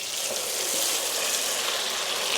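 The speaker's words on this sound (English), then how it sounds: "Got the old deep fryer fired up. Just gonna throw these in there." Potatoes crackle and sizzle in a deep fryer whose oil is due for changing, a dense, steady bubbling hiss that stays constant throughout with no voices over it.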